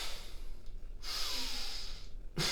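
A demonstrated breathing exercise: a steady inhale followed by an exhale let out in partial breaths, close and breathy with no talking.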